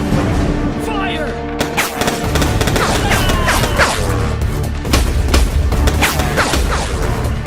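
Gunfire in the shooter game Foreclosed, a steady run of sharp, loud shots and booms over a dense combat mix of effects and music, with occasional game voices.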